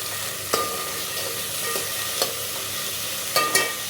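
Onions frying in a pan for easy evening snacks, a steady close sizzle and hiss with a few sharp clinks of stirring scattered through, no talk.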